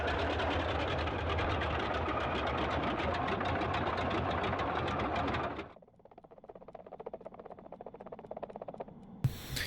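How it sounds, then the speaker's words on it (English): In Microsoft Flight Simulator, the engines of a Boeing 247D run as a loud, rapid, clattering drone, then abruptly wind down. A softer, ticking idle is left behind, ending with a sharp click. "Not a bad engine stop simulation there"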